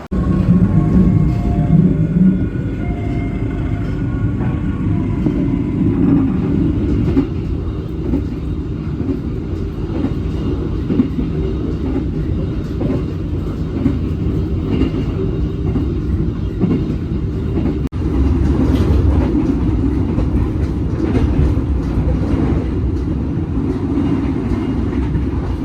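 The Blambangan Express, an Indonesian passenger train passing through Babat without stopping, gives a heavy steady rumble from inside with faint rhythmic rail clatter throughout, loud and continuous.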